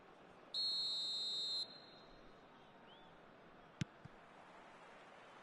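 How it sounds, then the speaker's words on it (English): A single long, piercing referee's whistle blast from the eFootball PES 25 match game signals the start of the second half, ringing steadily for about a second over a low crowd hum, followed by faint scattered clicks. "There's the whistle then to start the second half."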